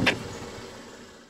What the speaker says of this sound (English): So we're going to pop the hood.